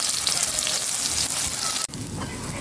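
Food fries in a pan with a dense, close, steady sizzle and crackle, briefly cut off once before it resumes.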